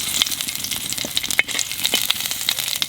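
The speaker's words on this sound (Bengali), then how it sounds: "তেলের উপর দিয়ে দেবো জিরে আর তেজপাতা" Cumin seeds and bay leaves hit hot mustard oil in a pan, giving a steady close sizzle and crackle with a few sharp pops and spits throughout, no voices.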